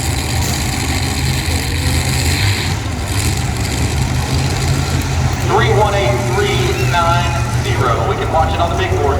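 Modified pulling tractor engine roaring steadily at a tractor pull in Fort Recovery, Ohio, a loud continuous drone with rising revs, while an announcer talks over it.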